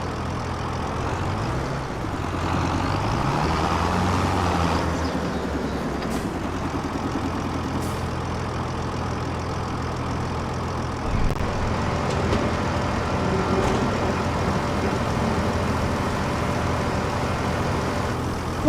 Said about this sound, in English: But now, drive the trailer over the tip area